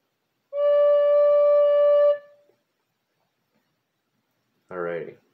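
One held D note on a wind instrument, steady for about one and a half seconds and then released, followed after a pause by a brief bit of speech.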